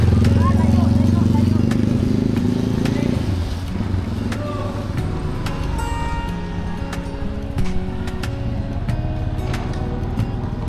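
A motorcycle riding fast on the road, its engine a loud steady drone that drops to a lower, rougher hum partway through as it passes or shifts, heard close and continuous without speech.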